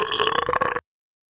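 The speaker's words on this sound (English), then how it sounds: "just big dragon burps" One loud, close burp rolls out for under a second and then cuts off abruptly into silence.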